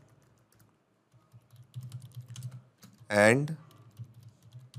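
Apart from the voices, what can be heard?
typing a message on a computer keyboard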